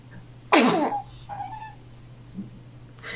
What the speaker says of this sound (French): mais il éternue comme ça depuis sa naissance